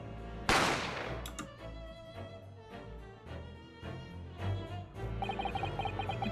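A single sharp gunshot cracks out loud and close in The Great Ace Attorney Chronicles, fading into a low game soundtrack that carries on with chiming notes.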